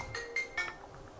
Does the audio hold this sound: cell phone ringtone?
yes